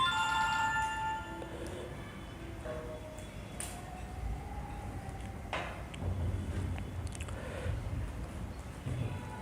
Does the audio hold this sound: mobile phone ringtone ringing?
yes